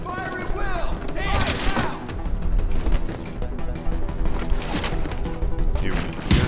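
Dense gunfire in The Division video game, rapid shots and bursts mixed with mechanical clatter and crashes, loud and continuous, with game voices speaking over the shooting.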